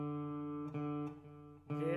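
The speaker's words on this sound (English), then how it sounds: "So fourth string is your D string." An open D on the fourth string of an acoustic guitar rings out alone, sustained and steady, with two light re-plucks mid-clip and a fresh pluck near the end.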